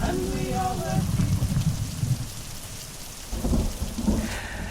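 Persistent rain falls with rumbles of thunder, a steady broadband wash that swells again near the end, while low background sounds murmur underneath.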